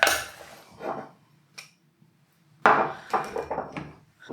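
Crisp croutons tossed and scraped in a bowl with olive oil for a Caesar salad with chicken, giving rattling clatters and rustling bursts in loose, uneven waves, close up with no talk.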